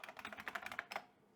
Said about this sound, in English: me typing my password in